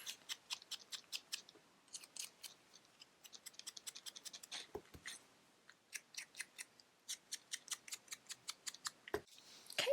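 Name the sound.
scissors cutting out a paper scarf and fall leaves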